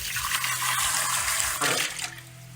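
Tap water runs steadily into a cup being rinsed at a kitchen sink, a close, loud, continuous splashing rush that eases slightly near the end, with no voices.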